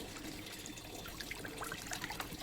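Water soaked with mustard oil-cake being stirred and mixed in a bucket, a close, continuous sloshing and trickling swirl of liquid with no talk.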